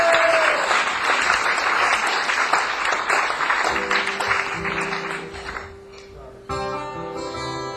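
A live audience at a Manchester concert club claps for the sound engineer, steady dense applause that tapers off, then a sustained musical tone takes over near the end.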